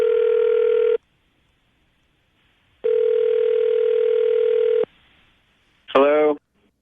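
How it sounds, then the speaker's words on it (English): A telephone handset during an outgoing call: a steady dial tone, a pause, a second longer tone, then a short warbling burst as the call connects, loud and close with no talking. "Okay, Katie, we're going to get him on the phone right now, see if we can get an answer as to why he hasn't called you back, okay?"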